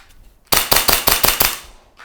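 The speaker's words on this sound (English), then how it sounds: "I can shoot multiple shots on one single target." Pistol shots fired in quick succession at a single target during home dry-fire training, about six loud sharp cracks in a tight even rhythm, close by, then a quick fade.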